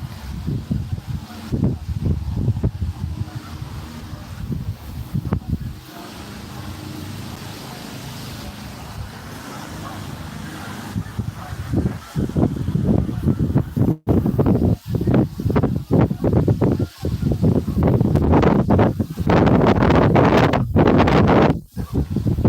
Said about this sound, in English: that's the wind